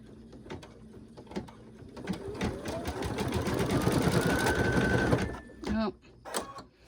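Home embroidery machine stitching after the needle is lowered: rapid mechanical whirring that builds and runs steadily for several seconds, then cuts off abruptly, followed by a few short clicks and brief mechanical noises.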